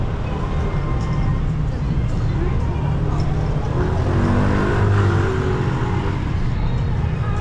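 Vehicles rumble and rev in heavy street traffic in the Philippines, where motorcycles jostle forward. The roar is a steady, close drone that swells midway, with some voices faint underneath.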